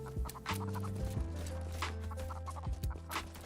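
In a Godot-made game, a chicken gun fires with repeated clucking and squawking chicken sounds layered over a steady game-music backdrop.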